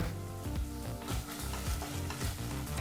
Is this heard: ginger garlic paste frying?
yes